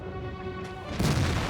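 A tank cannon in World of Tanks fires with a sudden deep boom that swells over a steady engine rumble and lingers to the end.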